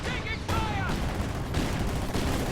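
Infiltration grenades go off in a strategy war game: several loud, booming blasts mixed with gunfire, close and continuous with no pause between hits.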